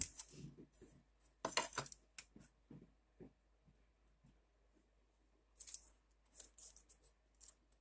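Scissors cutting pieces on a tabletop, a scattering of sharp, close snips and metallic clicks in short clusters separated by near-silent pauses.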